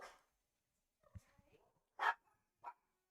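Small household dogs barking excitedly as their family comes home, a few sharp, fairly faint yips spaced apart with a brief whimper between them.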